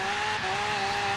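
A V12 Charger Daytona in Forza Horizon 3 pulls away with a sustained, loud engine drone, a steady pitched tone holding throughout.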